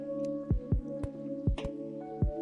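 Water placed in a blocky building game while finishing a science lab build: a handful of soft, wet drip-and-squish pops at an uneven pace, close and clear over steady tonal background music.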